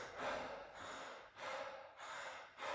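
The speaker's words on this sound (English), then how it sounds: "we start to have this cyclic, connected breath experience that's like rebirthing breath work" Cyclic connected breathing in a rebirthing breathwork session: a continuous run of strong, rushing inhales and exhales with no pause between them, close and fairly loud, repeating about every second and a half without talk.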